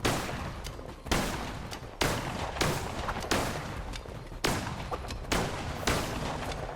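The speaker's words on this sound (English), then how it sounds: "The gun is just too powerful." A powerful gun in Cult of the Lamb fires a string of about eight loud, sharp shots at an irregular rhythm, each with a short decaying tail, and no talk over them.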